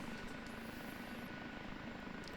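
OH-58D Kiowa Warrior helicopter engine in the DCS simulator, a steady whirring turbine and rotor drone with faint whining overtones, continuous and even in level, with no voices.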